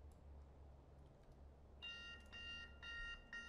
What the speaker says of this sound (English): There goes the alarm.